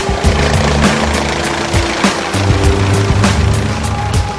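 A police helicopter thrums overhead with a steady low rotor drone and regular rhythmic blade chops, loud and continuous throughout.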